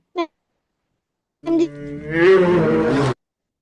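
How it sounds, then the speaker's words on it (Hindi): A bear's roar played as a quiz sound: a brief grunt, a pause, then one loud, rough, drawn-out roar lasting nearly two seconds, heard alone. "ये बियर की आवाज है।"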